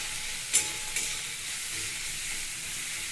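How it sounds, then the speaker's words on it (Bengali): Carrots, cauliflower and capsicum frying in a pan with chopped ginger, garlic, chilli powder, pepper and salt, a steady hiss of sizzling with two brief sharp crackles near the start. "একটু লঙ্কার গুঁড়ো, একটু গোলমরিচের গুঁড়ো, একটু নুন দিয়ে আমি সবজিটা ভাজছি"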